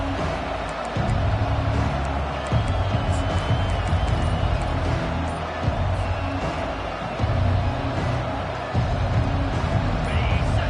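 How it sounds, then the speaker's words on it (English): Football stadium crowd at an Oregon game roaring steadily and loudly at full throat, a dense sustained wall of cheering with surges and swells throughout. "This crowd, full throat, spreading the eardrums and letting them know it's going to be a long day."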